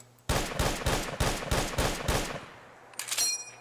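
Seven rapid, evenly spaced rifle shots from a battle rifle in Fallout 4, loud and close, followed by a brief metallic reload clatter and no talk.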